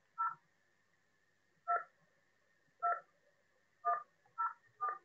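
Telephone keypad tones keyed in on a university phone line, six short separate beeps at uneven spacing, clear and close against a faint line hum.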